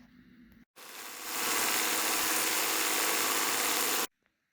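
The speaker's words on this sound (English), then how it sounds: "I'm just going to finish stitching that out because I can't hold my phone and thread the machine at the same time" Embroidery machine stitching out a plaid wallet design, a steady fast mechanical whir and rattle that starts abruptly, builds slightly, runs continuously for a few seconds, then stops cleanly.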